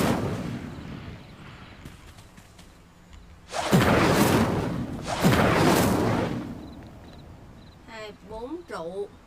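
A fire spell cast in the Hogwarts Legacy video game bursts out as two loud roaring whooshes with a booming onset, set over a steady game ambience with chirping effects toward the end.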